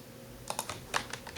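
Arrow keys are tapped on a computer keyboard, giving about eight quiet, close clicks in an uneven burst, with no voices.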